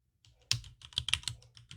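Typing credentials on a computer keyboard, a short close burst of rapid clicky keystrokes in an irregular rhythm, alone without talk.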